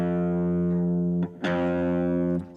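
A guitar rings out a single note fretted at the first fret of the high E string, held steadily, cut off briefly and struck again, then sustained before fading, close and clean with no talking.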